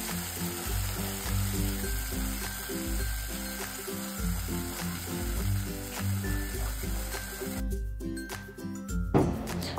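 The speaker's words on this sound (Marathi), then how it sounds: "हे सगळ्यांना व्यवस्थित मिक्स करून साधारणतः 1 मिनिट भर परतून घ्यायचं आहे" Ground raw mango paste fries and is stirred in a pan, giving a steady moderate sizzle and hiss with background music playing underneath.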